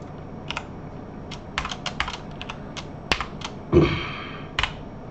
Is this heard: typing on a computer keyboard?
yes